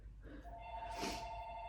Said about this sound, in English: Oh, there's the phone ringing.